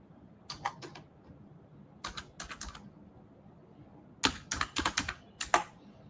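Computer keyboard typing as trade entries for a GBP/USD buy limit are written out: quick clustered bursts of keystrokes, close and crisp, separated by short pauses in a quiet room.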